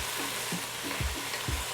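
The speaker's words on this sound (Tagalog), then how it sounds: "when you pan fry your veggie" Carrots and potatoes stir-fried in a pan sizzle quietly in a short burst, with a few soft thumping stirs landing roughly every half second.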